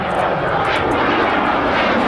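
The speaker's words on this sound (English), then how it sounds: "nose coming up over the horizon as Sandy rolls the beautiful T-33" A T-33 jet rolls through an air show pass at Quonset ANGB with its wing flaps extended, giving a loud, steady, broadband engine roar that holds close and constant throughout without a break.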